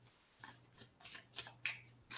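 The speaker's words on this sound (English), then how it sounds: "Let's just shuffle them up randomly and draw" Playing cards being shuffled in a tabletop board game session, a series of quick riffling bursts with soft clicks over a faint steady hum, close and moderately loud.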